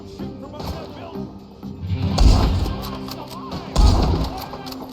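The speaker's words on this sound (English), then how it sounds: "There's one shooting from up that building." Gunfire in Red Dead Redemption 2 lands as two heavy booming shots a couple of seconds apart, over lower game sounds and voices.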